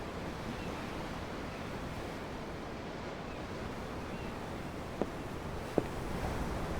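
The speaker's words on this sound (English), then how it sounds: "I'm looking at the ocean." Ocean waves in Tales of Arise wash in a steady, continuous surf with wind, moderately loud, with two brief sharp knocks near the end and no talk.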